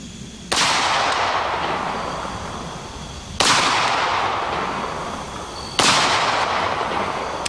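A Bushmaster rifle fires three single loud shots outdoors, spaced a few seconds apart, each sharp crack followed by a long rolling echo that fades slowly before the next round.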